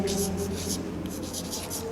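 Chalk scratches and taps across a blackboard in a series of short, rhythmic strokes during a classroom lesson, close and clear while a teacher speaks.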